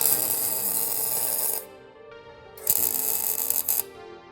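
Tack welding of an engine mount onto a car subframe for an MK7 2.0T engine swap into a Jetta gives a steady bright crackling buzz that cuts off, pauses about a second, then resumes briefly before stopping, with no talk.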